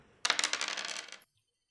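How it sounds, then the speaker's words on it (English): Four black dice tumble across a tabletop during a roleplaying game, making a rapid clattering rattle of many quick clicks for about a second. The rattle settles abruptly into silence. "You roll 4 black dice because I failed my challenge roll."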